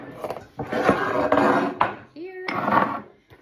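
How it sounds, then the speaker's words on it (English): Food tossed into a greased baking pan brings a close clatter of the pan and utensils with bumps and scrapes, and a brief squeaky tone partway through. "I'm going to toss this into my greased pan"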